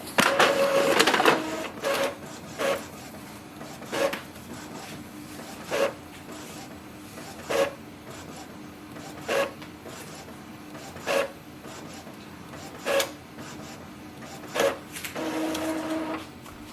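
An Epson ET 2800 inkjet printer runs an alignment pattern, giving a brief whirring start and then regular short mechanical bursts of the printhead carriage, each about two seconds apart, close by with no talk.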